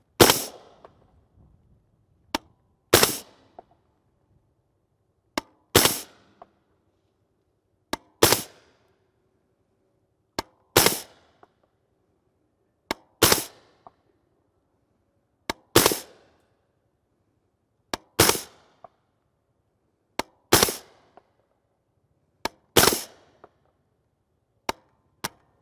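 A suppressed 300 Blackout rifle fires 208-grain subsonic A-MAX rounds from a JK Armament kit. About a dozen sharp, muffled reports come in spaced strings, with short mechanical clacks of the action between them.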